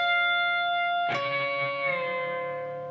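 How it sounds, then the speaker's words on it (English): A single electric guitar note on the G string is picked and slowly bent up a full step, ringing with light distortion after a sustained tone, close and alone. "I'm going to bend it up a full step."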